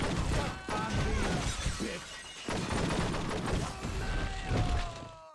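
Gunfire in the video game True Crime: Streets of LA, loud overlapping shots mixed with shattering glass and crashing debris, a chaotic, sustained barrage throughout.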